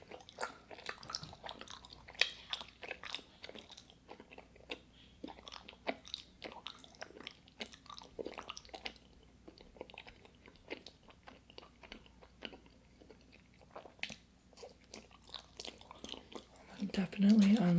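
Close, wet chewing of strawberry and melon Japanese mochi rice cakes, soft squishy bites and sticky mastication repeating steadily, with brief quiet speech near the end.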